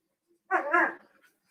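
A single short dog bark rings out close and clear against silence, a bright half-second yelp that trails off quickly.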